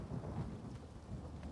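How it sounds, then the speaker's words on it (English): Loud rolling thunder in The Elder Scrolls Online rumbles on steadily through the whole stretch, with a hiss of rain behind it and no voices. "Anybody liking the really loud thunder stuff? Are you getting jump scared by the thunder?"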